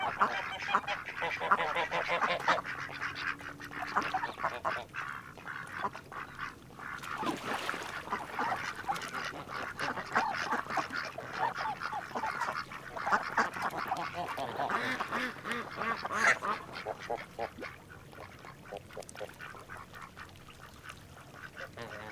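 Ducks on a farm quack and honk almost without pause, a dense, fairly close chorus of overlapping calls over low background noise, with no talking.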